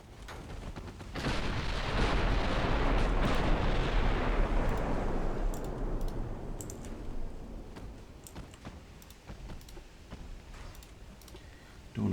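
Ammunition in a secondary gun detonates during a Hood versus Bismarck battleship battle in Ultimate Admiral Dreadnoughts. One loud, roaring blast rolls into a long rumble that slowly fades, with scattered distant cracks of gunfire.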